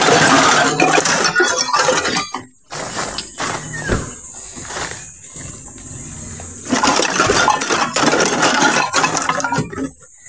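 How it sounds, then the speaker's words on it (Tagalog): Tin cans clink and rattle as they are gathered up among plastics near a riverbank, with bursts of metallic clatter, a short quiet gap, and then more jostling. "Ayan, daming lata."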